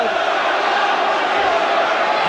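Football crowd at Charlton Athletic versus Tottenham Hotspur in 1988/89 roars with a loud, steady wash of cheering, with commentary voice blended in.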